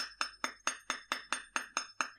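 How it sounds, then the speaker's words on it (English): A hammer forges wire for a brooch in ten evenly spaced, sharp metallic taps, each ringing briefly before the next blow, close and fairly quiet. "and forge this wire where I want"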